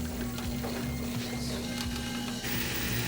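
A GE washer in its first drain cycle, pumping water out through the drain hose with a steady mechanical hum and a sustained rushing wash of noise, close and continuous.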